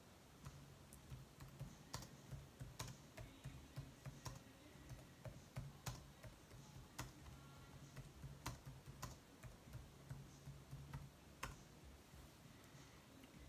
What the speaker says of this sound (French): J'écris un petit message